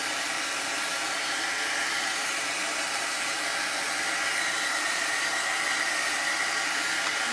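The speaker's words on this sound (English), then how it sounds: "I'm going to dry this just a little bit with my heat tool" A heat tool blows hot air to dry chalk paste, a steady loud whooshing hiss that runs unbroken and alone throughout.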